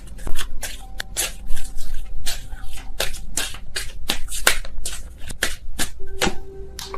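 Tarot cards being shuffled by hand during a reading, a series of crisp riffling and flicking bursts at an irregular rhythm, close and fairly loud, with no talking over them.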